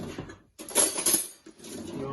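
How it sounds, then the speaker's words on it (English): A knife is lifted from among cutlery in a home kitchen while mint chocolate brownies are being baked, giving a few bright metallic clinks and rattles after a short pause. "So I'm just going to get a knife."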